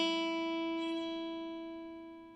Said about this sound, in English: So the first string, of course, we call number 1. This is an E string,